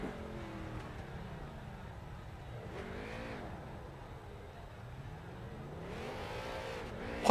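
Street stock race car engines in a short-track iRacing race drone and rev throughout, with pitch rising and falling as cars accelerate and pass, loud and steady with a sharp bump at the end.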